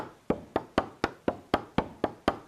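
Tree being chopped down in the survival game Vintage Story: nine sharp, evenly spaced knocking chops, loud and close, each with a short decay, no talking.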